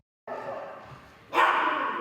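Several dogs bark and yip at an animal shelter holding abandoned pets, a steady chorus of overlapping barks that jumps louder partway through, with no talk over it.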